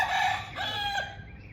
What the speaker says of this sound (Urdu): لے جی مرغا بانگ دے رہا ہے